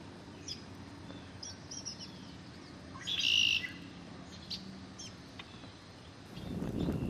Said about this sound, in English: we were lucky enough to spot a female red-winged blackbird as it hopped among the lily pads searching for aquatic insects